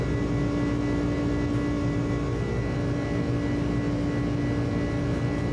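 An iniBuilds A300 airliner on a long takeoff roll in Microsoft Flight Simulator gives a steady, loud engine roar with a droning tonal hum, constant throughout, with no voices.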